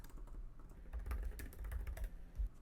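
Quick, irregular keystrokes on a computer keyboard, typing out a short label in a craft setting, close and moderately quiet with a low room hum underneath.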